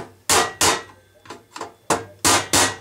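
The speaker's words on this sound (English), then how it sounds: "you gotta give it a little pry sometimes, get the lid off, and maybe just use your screwdriver" Repeated sharp metal knocks ring out as a Craftsman screwdriver is driven against an electronics lid to pry it loose, loud and close, in pairs of hard blows with softer taps between.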